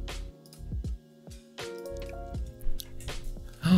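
Someone imitating a water-drop sound with a cheek pop, repeated several times in quick, uneven, wet clicks and plops up close, with a bit of chewing-like squish between them.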